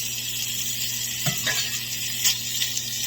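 Bacon sizzling in a non-stick pan with a little oil over medium-low heat, giving a steady, close, continuous hiss with a few faint pops and clicks.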